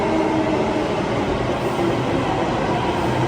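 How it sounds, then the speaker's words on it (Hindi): A metro train arriving at a station, a steady, loud, dense rumble of wheels and rail noise filling the whole stretch without a pause. "तो गाइज़ ये हमारी मेट्रो आ चुकी है"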